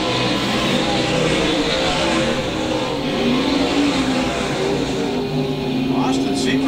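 Stock race cars roar steadily around the Lakeside Speedway oval, a continuous loud engine drone with cars passing, under a commentator's voice.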